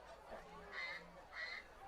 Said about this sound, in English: As the Ducks are still flying over in the Neshannock High School.